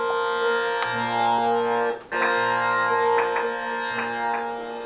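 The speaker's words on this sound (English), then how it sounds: "It's called a tampura" A tampura drone tuned to B flat rings out alone, a steady shimmering hum of sustained plucked strings with a brief dip midway before the resonant buzzing resumes.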